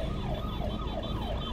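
An ambulance siren wails outside, its repeating rising and falling tone cycling steadily about every third of a second, heard clearly over a constant low background rumble with no one speaking.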